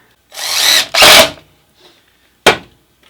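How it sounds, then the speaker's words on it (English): A power drill drives screws into a wooden board in two close, loud whirring bursts, followed after a pause by a third brief spin, with no talking. "I'm just going to put some screws directly into the board"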